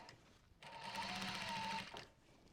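A sewing machine top-stitches a denim bum bag in one quiet, steady burst of rapid needle chatter lasting just over a second, with soft handling noise before and after.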